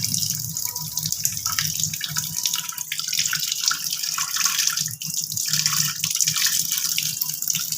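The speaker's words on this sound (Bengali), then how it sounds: "সবকটা সয়াবিনই আমি এরমভাবে চিপে জল ঝরিয়ে নেব।" Soaked soybean chunks are squeezed by hand, releasing a continuous splashing trickle of water into a bowl, close and steady, with small drips and wet squelches throughout and no talking.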